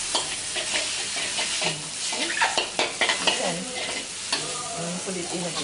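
Noodles sizzle loudly in a hot pan at a Malaysian cooking class as a metal ladle scoops and stirs them, with repeated scraping and clanking strokes over a steady frying hiss.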